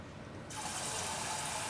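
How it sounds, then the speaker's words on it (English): Water pours into a pot of ramen soup, starting abruptly and then continuing as a steady close hiss of liquid filling. "I'm going to add a little bit more water to it."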